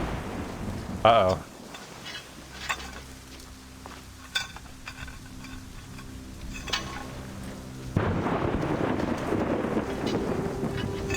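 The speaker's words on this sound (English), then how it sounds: "the last thing I'm going to do is be handling lightning rods while it's actively storming like that" Thunderstorm in Assassin's Creed Rogue, a windy hiss with a few sharp cracks that swells into a heavier, louder rush near the end, with a brief voice speaking.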